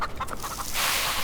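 Chickens cluck in a video game: a handful of short, close clucks in the first half, then a broad rush of noise that swamps them.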